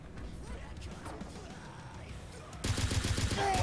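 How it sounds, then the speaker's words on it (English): Enemy gunfire in a shooter game arrives as a sudden burst of rapid, evenly spaced shots after a quieter stretch of muffled background noise, loud and close near the end. "he's shooting at me"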